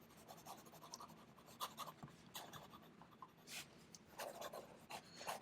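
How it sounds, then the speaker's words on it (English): A Parker Duofold Centennial MKI fountain pen writes quickly across paper. Its nib gives a faint, close scratching in quick irregular strokes, with no talk over it. "Some fast writing."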